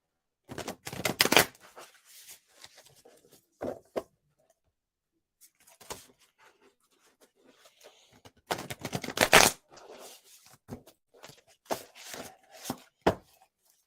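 Archangel Power Tarot cards are shuffled by hand in crisp riffling bursts separated by quiet pauses, close and fairly soft, with no talking.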